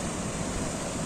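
Rough, choppy sea beside a rocky shore, a dense steady wash of surf roaring evenly throughout, no voices.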